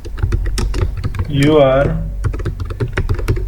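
Computer keyboard keys tapped in a quick cluster of clicks while entering an Excel business quotation, heard under steady talk by a man throughout.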